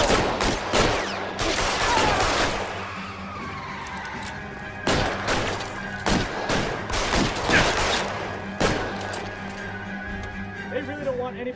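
Gunfire crackles through a shootout in the video game L.A. Noire: loud bursts of repeated shots in clusters, with dense overlapping cracks and background noise running throughout.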